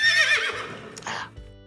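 A horse gives a short, loud whinny in a Western TV series scene, falling in pitch and followed by a brief snort, with faint low background sound underneath.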